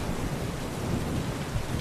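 Heavy rain pours steadily with a low, rolling rumble of thunder underneath, a dense, even wash of sound heard as part of a movie scene, with no one speaking.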